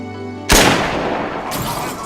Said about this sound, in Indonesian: Wojin justru malah membunuh Mr. Han dengan cara menembak kepalanya